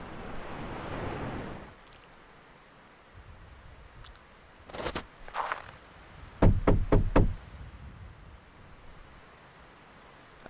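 Front-door knocking in the point-and-click horror game The Last Door, set in the foggy town of Wickport: a crisp burst of four or five rapid raps, close and loud, after quieter earlier taps against a low ambient wash.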